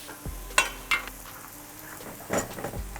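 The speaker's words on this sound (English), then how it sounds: "Allow the peppers to cook for around 4 to 5 minutes or until nice and soft." Bell peppers frying in a pan for burritos give a low sizzle broken by a few sharp clinks and scrapes of a utensil against the pan, close and fairly loud, with no talking.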